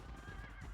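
A red horse in the Dynasty Warriors 2 video game lets out a short, loud neigh over a dense, busy mix of battle sound.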